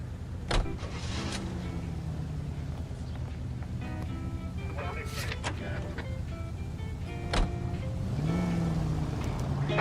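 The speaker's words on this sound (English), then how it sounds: "let's get into the car" Car in the video game LA Noire, engine hum and tonal motor whine with a few sharp clicks and thumps over a steady driving bed, continuous and moderately loud.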